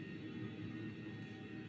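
Steady low humming drone of an airplane engine inside a mock-up aircraft cabin simulator, a continuous broadband rumble with a faint tonal whine above it, loud and unbroken with no talking.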